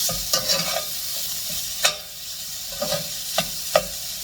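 Igado, a pork and liver dish, being stirred in a pan: a spatula scrapes and knocks against the metal in irregular strokes over a steady sizzle, with no talking.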